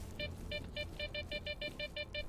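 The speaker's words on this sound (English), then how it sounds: "I've had quite enough of the beep beep beep beep beep beep beep beep beep beep beep" Repeated electronic beeping in the S.T.A.L.K.E.R. video game, a steady rhythmic series of short bright tones about four per second over a low ambient rumble.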